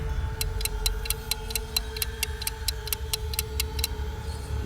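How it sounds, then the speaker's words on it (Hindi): A clock ticking in a quiet room, a steady run of about sixteen crisp, evenly spaced ticks over a low hum, close and clear with nothing else going on. "शांति इतनी थी कि घड़ी की टिक टिक की आवाज़"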